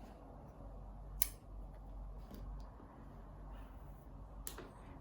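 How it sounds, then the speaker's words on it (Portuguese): Scissors snipping crochet yarn on a rectangular rug, giving two or three crisp, close metallic cuts spaced apart over a faint, quiet room background. "eu vou cortar esse fio"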